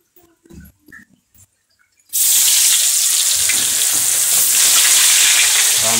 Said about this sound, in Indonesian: Nugget lagi digoreng guys.